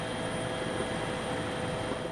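A helicopter flies over a forest fire site in the Gangwon mountains near Gangneung, its engine and rotor making a steady, droning whine with a constant tone, heard close and even throughout.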